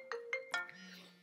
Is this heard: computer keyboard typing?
no